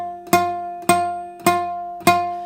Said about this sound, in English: if we're hitting the fret itself, as in the metal bit, it sounds like this.